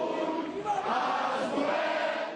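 A large crowd of Catalan supporters in Barcelona shouting together, a dense, steady roar of many voices chanting a slogan, loud and continuous throughout.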